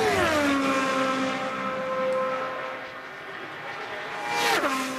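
An IndyCar race car driven by Ryan Briscoe pulls away under green flag at the Indianapolis 500 during pole-day qualifying, its engine winding down from a high whine and then surging again, loud and close with a rising pitch at the end.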